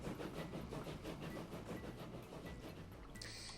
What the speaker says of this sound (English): So we have two trains running on the Great Wall of Whitby line